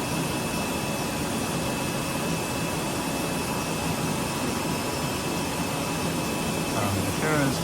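A 100s double wall paper cup machine running: a steady, loud broadband whirring and hissing drone with a faint constant hum, unbroken throughout.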